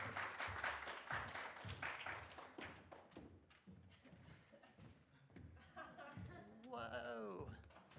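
Audience applause welcomes artists in residence at a spring slide night, a dense patter of clapping that rises and falls, mixed with voices and laughter, before a speaker begins talking near the end.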